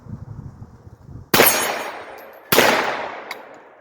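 Two sharp pistol shots ring out about a second apart, close and loud, each trailing a ringing decay, fired from a handgun braced with a tennis ball for bump firing.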